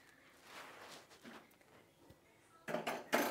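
A metal tiffin box used for steaming tangra fish with lati is pried open in a kitchen, with soft scraping and then two sharp clanking metallic bursts near the end.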